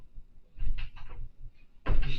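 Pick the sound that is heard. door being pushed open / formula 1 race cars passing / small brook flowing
door being pushed open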